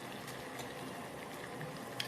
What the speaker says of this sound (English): that is why we see this water bubbling up